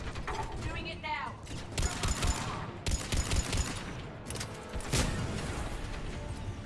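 A mounted gun blazing in the video game Mass Effect 3, rattling out loud, rapid bursts of mechanical gunfire with brief pauses between volleys.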